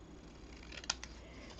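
Scissors snip through craft material for a snowman hat, one short faint crisp cut followed by a softer second snip, close but quiet over a steady background hiss.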